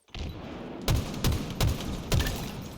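Gunfire in Halo Infinite during an Oddball Recharge match: four sharp, evenly spaced shots ring out over a constant background din of the game, each with a short booming tail.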